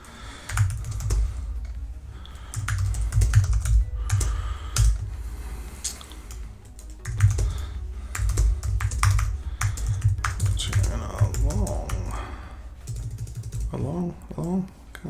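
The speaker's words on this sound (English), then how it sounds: "Just going to write a message in the chat here." Computer keyboard keys clatter in rapid bursts as a chat message is typed, the clicks close and fairly loud, coming in uneven runs with short pauses, over a steady low hum and some background noise.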